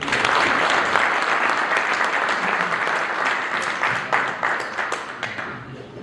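A festival audience at the Pakistan Literature Festival inauguration in Houston breaks into sustained, dense applause as a speaker is welcomed to the stage. The clapping fills the room steadily, then thins slightly toward the end.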